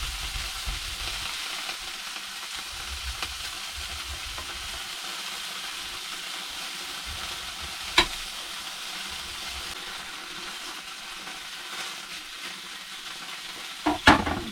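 Sausages fry in a pan at home, a steady soft broadband sizzle running throughout at low level, with a couple of sharp clicks or taps near the middle and end, no talking.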